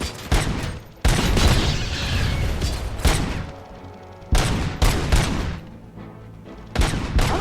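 Loud bursts of gunfire from the video game Robocop Rogue City, several sharp volleys with booming impacts in quick succession, dense and close, with brief lulls between the salvos.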